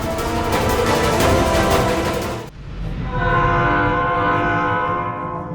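A train passes near a rural station, loud and close, with a sustained horn blast and heavy rumbling for a couple of seconds, then a sudden drop to a quieter, ringing rolling noise as the cars continue by.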